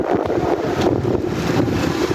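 Strong wind sweeps through a city in a dust storm, a continuous rushing roar with buffeting gusts against the microphone, loud and unbroken for a couple of seconds.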